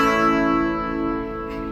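A guitar chord plucked with fingers fretting the fourth string at the second fret rings out alone, full and harmonically rich, fading slowly over under two seconds.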